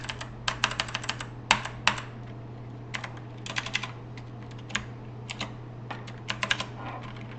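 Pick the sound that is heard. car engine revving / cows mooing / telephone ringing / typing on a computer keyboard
typing on a computer keyboard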